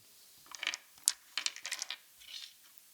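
Small dice clatter and tumble onto a hard surface in several quick bursts of sharp clicks, with a bright impact near the start and a softer rattle trailing off, close and fairly quiet.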